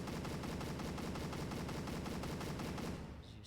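In a video game, a turret fires a rapid, evenly spaced stream of gunshots that sounds loud and continuous for about three seconds before cutting off abruptly, with no talking.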